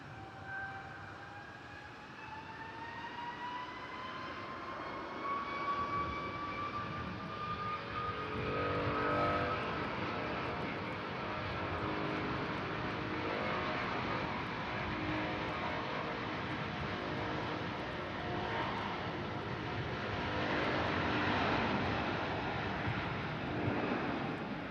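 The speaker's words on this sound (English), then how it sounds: "a Lufthansa Airbus A320 coming in from Frankfurt" A Lufthansa Airbus A320 landing at Manchester Airport from Frankfurt: a steady, fairly distant jet roar with rising engine whine tones that swells and holds for the whole stretch, without talk.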